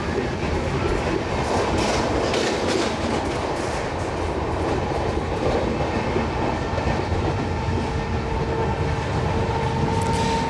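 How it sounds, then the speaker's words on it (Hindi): A passenger train runs on the Ayodhya to Varanasi line, heard from inside as a steady loud rumble and rattle of wheels on rails, with faint rhythmic clacking and no talking. "हमारी ट्रेन भी अपनी गति से आगे की ओर बढ़ती जा रही है"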